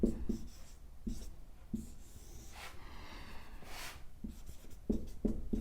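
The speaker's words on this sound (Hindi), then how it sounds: "इसको थोड़ा सा मैं आगे लिख देता हूं" Chalk or marker writing an equation on a classroom board during a physics lesson on refraction, heard as a run of short scratchy strokes and taps in separate bursts, close and fairly quiet, with no talking.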